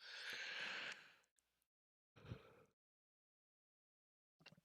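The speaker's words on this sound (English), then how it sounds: "Oh, didn't mean to yawn in your ears there, folks." A long, breathy yawn from a man at a flight-simulator microphone opens loudly and trails off, then comes a short exhale and, after a pause, a few small breathy sounds.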